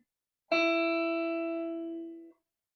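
A single plucked electric guitar E note, on the second string at the fifth fret, rings out clearly and sustains for almost two seconds before being cut off, with no other sounds.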